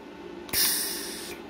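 A MIG welder releases shielding gas after the trigger lets go: a sudden bright hiss starts sharply, holds steady for just under a second, then cuts off.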